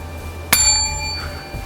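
One crisp bell chime strikes near the start and its clear ringing overtones decay gradually across the rest of the moment, alone against a soft, quiet backdrop.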